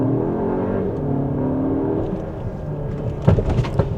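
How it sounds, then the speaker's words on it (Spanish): A 2026 Skoda Kodiaq SUV accelerating hard in Sport mode with the pedal floored, a steady engine drone rising under cabin noise, with a few sharper thumps and knocks near the end. "Ahora hagamos una pequeña prueba de aceleración. Ponemos modo Sport, pedal a fondo"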